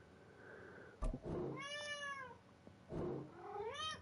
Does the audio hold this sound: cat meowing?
yes